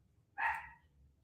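A single short dog bark, sharp and mid-distance, rising out of a quiet background hum and fading quickly, with no talking.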